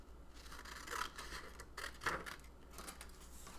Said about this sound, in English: So I'm actually going to cut that out as well.